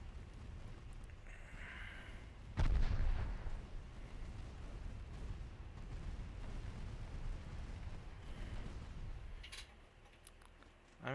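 Warship secondary guns firing in the naval battle game Ultimate Admiral Dreadnoughts: a heavy low boom at the start, then a rumbling roll of distant gunfire and wind-like noise that fades, with another burst at the very end.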